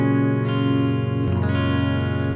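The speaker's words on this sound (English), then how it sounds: "So your guitar should basically sound like this when it's open." Open strings of a guitar in an alternate tuning with a capo on the second fret, strummed and left to ring, full and sustained, with a fresh strum partway through and no talking.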